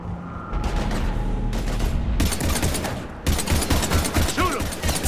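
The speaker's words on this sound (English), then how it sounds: "We're taking heavy fire." Heavy automatic gunfire in the shooter Mass Effect 3, dense bursts of rapid shots and booms hammering in close succession, loud and near, with a voice speaking among the shots.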